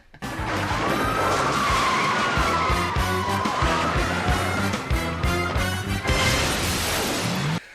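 Cars skid and screech through a shopping mall in the Blues Brothers chase, a loud continuous tire squeal sweeping up and down over roaring engines and rhythmic thumping music, with crashing impacts toward the end.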